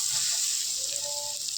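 Asafoetida and ground green chilli chutney sizzling in a hot tempering pan, a loud, steady hiss close up with no voices.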